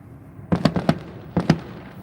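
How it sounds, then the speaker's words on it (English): Fireworks pop at a distance near the St. Paul Saints baseball stadium on a summer night: a quick cluster of four cracks, then two more after a short pause, over faint background hum. "There's a lot of fireworks going on."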